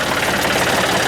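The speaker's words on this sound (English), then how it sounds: "stupid me, I should have turned the tractor off." A compact tractor engine idles loud and close in a steady, chugging drone with a rough, knocking pulse and heavy low vibration, running alone without any voices.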